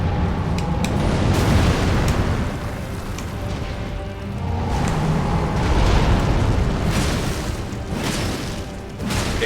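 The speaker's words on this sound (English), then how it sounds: "he does flame pillars, and then he does the puke, the fire puking. Eruption." Boss fire eruption attack in Elden Ring, a continuous loud roaring rumble of flames and booming blasts that swells and surges for several seconds with no speech over it.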